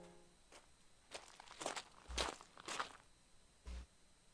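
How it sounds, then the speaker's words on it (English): Several footsteps crunch across the ground as an audio drama sound effect, spaced irregularly with a few heavier thuds, fairly close and alone without talk. "Suddenly, I hear footsteps."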